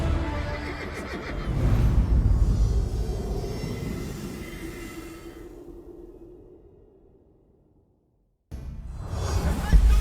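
Horses of Jeanne d'Arc's medieval army in an Age of Empires 4 cutscene gallop and neigh as a loud rumbling mass, fading away to near silence before a burst of sound returns.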